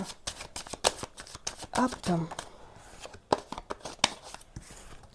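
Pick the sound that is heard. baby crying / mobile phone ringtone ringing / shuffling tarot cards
shuffling tarot cards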